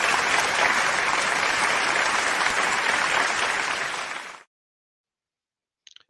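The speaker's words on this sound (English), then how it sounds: "I'm actually going to give him applause before he even comes on" Crowd at a Newcastle United fans forum claps loudly and steadily for about four seconds, then the applause cuts off abruptly into silence, broken only by a tiny faint sound near the end.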